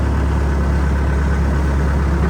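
A Bobcat skid steer engine idles steadily and loudly, a constant low rumble with dense mechanical roar and no pauses or other sounds.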